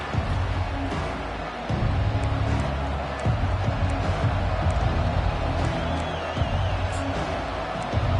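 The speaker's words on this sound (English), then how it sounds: "This crowd, full throat, splitting the eardrums and letting them know it's going to be a long day" A college football stadium crowd roars at full volume, a dense, continuous wall of cheering and shouting with occasional whoops rising above it, loud and steady throughout.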